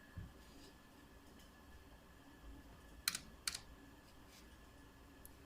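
Sparse keyboard clicks and a couple of sharp key presses while values are entered in AutoCAD 2D drafting software, isolated taps over a quiet room hum.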